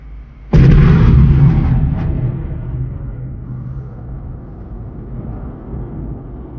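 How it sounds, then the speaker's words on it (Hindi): Loud launch blast of a DRDO Akash Prime surface-to-air missile during an interception test against two targets, a sharp onset followed by a sustained roaring rumble that slowly fades into a long low tail. "आकाश प्राइम मिसाइल दोनों टारगेट्स को कैसे इंटरसेप्ट कर रहा है"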